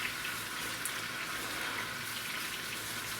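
Meat sears in a crock pot with bouillon cubes, giving a steady, loud sizzling hiss that continues without a break.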